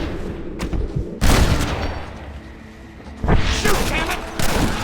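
Gunfire in the Red Dead Redemption video game: loud bursts of crackling shots break out in two heavy volleys separated by a quieter lull, with scattered single shots around them and raised voices in between.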